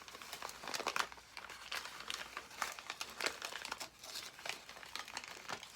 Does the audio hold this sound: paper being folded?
yes